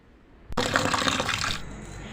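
Tap water suddenly gushes on and runs in a loud, steady splash while small chopped pieces of liver are washed in a sink, then the flow softens toward the end.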